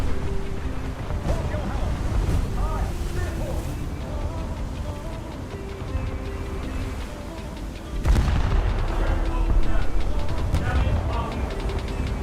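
Gunfire and explosions in the War Thunder combat game, a dense, continuous battle din of booms and rattling shots that grows louder and busier partway through, with no voices.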